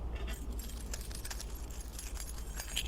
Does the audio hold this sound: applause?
no